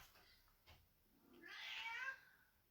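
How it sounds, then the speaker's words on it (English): A house cat lets out a drawn-out, rising meow, soft and somewhat distant in a quiet room, preceded by faint shuffling. "sorry guys for the cat. Suddenly he decided that he will be talkative"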